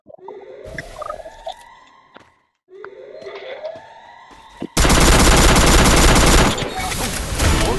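Gunfire in the mobile battle-royale game Free Fire: a sudden dense, loud burst of rapid shots fills the second half, following quieter game sounds with tonal effects and a short gap.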